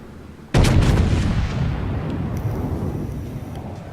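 A battleship's main guns fire a salvo in the World of Warships naval video game, a sudden loud booming blast followed by a long rumbling roll that slowly fades, with no talking.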